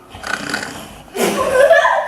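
Stage actors in a theatre group imitate loud snoring with their voices, a rough snorting rasp that starts softer and swells into a louder, longer stretch in the second half.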